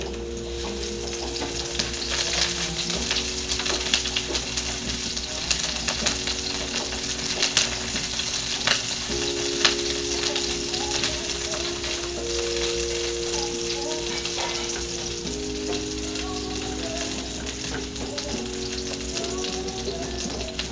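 Ginger fries in a pan with a loud, constant sizzle and crackle, broken by scraping stirs, while a low steady hum carries on beneath.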